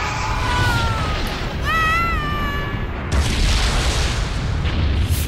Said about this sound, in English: Is that the first version of the final explosion that he does?